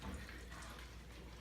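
Beer streams from a Mr. Beer keg into a tilted bottle in a steady, close, continuous liquid trickle and splash with no talking.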